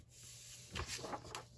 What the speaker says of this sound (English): I'm going to turn the page over